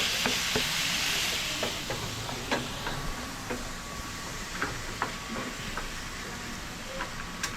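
Pork lechon kawali frying in a pan with a steady loud sizzle, broken by scattered pops and crackles as the meat cooks.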